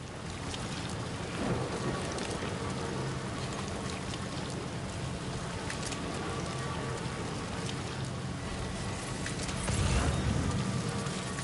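Steady rain hisses across the whole stretch in Death Stranding 2, with low rumbles of thunder rolling underneath and a heavier thunder swell near the end; no talking.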